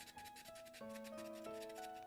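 Rapid back-and-forth scraping of hand sanding on a small Loopy controller start button, close and quiet, with faint background music tones underneath.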